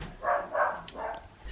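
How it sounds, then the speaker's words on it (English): A house dog barks indoors, three or four quick, moderately loud woofs at close range, followed by a short thump. "That's why our dog was barking"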